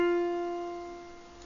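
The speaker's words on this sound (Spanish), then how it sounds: "este fa, que suena así" A single sustained musical note F rings clearly with bright overtones, already sounding as it begins and slowly fading over about a second and a half, heard alone.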